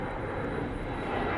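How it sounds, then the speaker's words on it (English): An airplane flying overhead gives a broad, steady engine roar that fills the whole stretch at an even level, with no speech over it. "Sorry about the plane."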